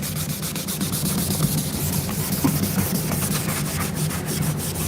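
Sandpaper rubbing on wood, a continuous gritty scraping with faint rhythmic strokes, steady and fairly loud throughout with no voices.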